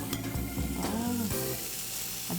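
Scorched rice nurungji crackles and sizzles steadily in a hot pan, a dense continuous frying hiss that stays loud and close throughout, with a few faint tonal squeaks over it.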